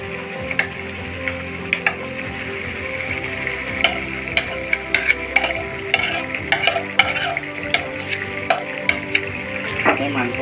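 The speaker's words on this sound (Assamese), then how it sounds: "তাৰপিছত এতিয়া মই ইয়াত মেৰিনেট কৰি থোৱা মাংসখিনি দি দিম।" Marinated meat tipped into browned onions frying in oil, giving a steady close sizzle with scattered clicks and scrapes of stirring throughout.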